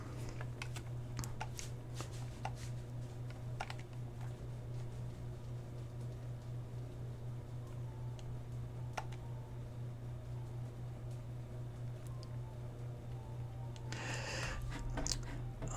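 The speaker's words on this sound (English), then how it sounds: "I'm just clicking the enter button, or on my controller the A button to get through" Computer keyboard keys click one after another while Final Fantasy XI cutscenes are skipped, light taps over a constant low electrical hum, with a quicker cluster of clicks near the end.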